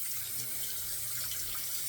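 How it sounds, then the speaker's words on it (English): Hot tap water runs in a steady, continuous stream to wet a Gem OC Micromatic razor blade; a close, even rush with no voices. "we'll wet the blade with some hot water always"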